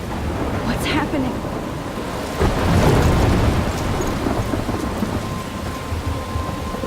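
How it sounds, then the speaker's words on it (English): Thunderstorm in the Life is Strange video game: steady heavy rain with a loud rolling thunder crash building around the middle and rumbling on, all close and dense with no talking. "I'm trapped in a storm?"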